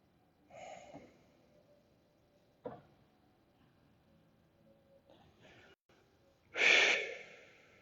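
Slow audible breaths during a supine yoga twist: a soft inhale, a sharp intake a couple of seconds later, quiet pauses, then a long, loud exhale near the end, close and without talk.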